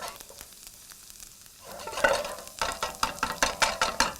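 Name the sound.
garlic sizzling and being stirred in a pan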